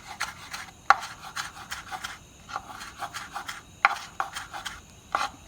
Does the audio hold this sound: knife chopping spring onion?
yes